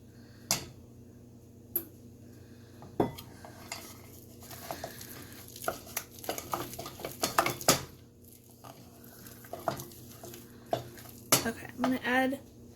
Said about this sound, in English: I need a spatula. Just want to get all this off so it can get evenly mixed.